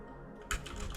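Close keyboard typing at a computer, a quiet hum giving way to a quick run of key clicks that grows denser and ends on a louder tap.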